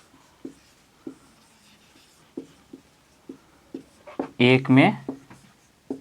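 Pen or chalk writing during a math lesson, a series of short, spaced scratches at an irregular rhythm, with someone speaking briefly near the end.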